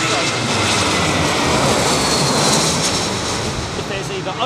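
Aircraft jet engines roar steadily as a plane lands at Heathrow Airport during Storm Ciarán, a loud, broad, continuous rush with wind-like noise throughout.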